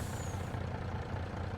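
A farm truck backing up to an auger to tip fertiliser during wheat planting, with a steady loud diesel engine rumble and a brief hiss of air near the start, close and continuous.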